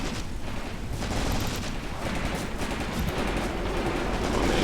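Dense gunfire rattles across a trench in the WWII tactics game Graviteam Tactics: Mius Front, overlapping bursts and shots forming a continuous loud barrage with distant booms beneath.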